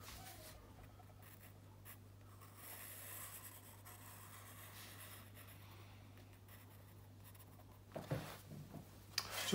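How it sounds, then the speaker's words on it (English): Pencil sketching a tree on paper, a quiet, close scratchy rubbing of graphite strokes under a steady low hum, ending with a few louder scrapes. "Might just sketch a bit of a tree in just now to suggest"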